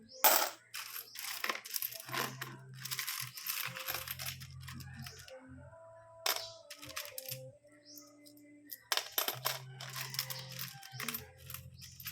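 Someone counts a pile of small coins, many of them 1-peso pieces, and they clink and jingle close up in bright bursts over a low background hum.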